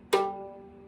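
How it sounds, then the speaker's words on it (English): A single low note on a violin's G string, bowed or plucked, starts sharply and sustains as a deep, steady tone, fading gradually. "The largest string on the violin is the G string."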